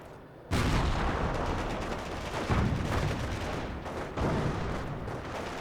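Rifle gunfire in the World War II strategy game Company of Heroes, a 3v3 battle on a forest map: dense, continuous crackling volleys and bursts of shots, loud and close, with a heavier surge partway through.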